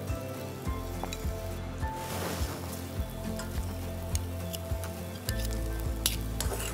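Oil sizzles steadily in a frying pan while salamat, a Yakut dish, is cooked, a close, continuous crackle with regular light ticks from stirring and no talking.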